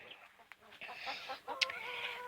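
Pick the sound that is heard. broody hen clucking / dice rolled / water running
broody hen clucking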